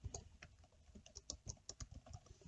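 Fast, uneven bursts of keystrokes on a computer keyboard, close and clear, with brief pauses between clusters of taps and no talking.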